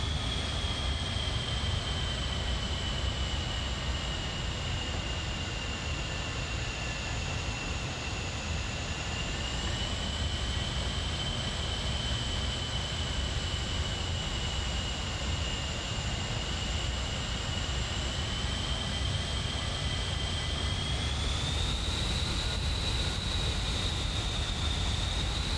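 An Avro Vulcan jet taxis in Microsoft Flight Simulator, giving a steady, loud engine roar with a whining tone that holds, then rises near the end, continuous throughout with no talk.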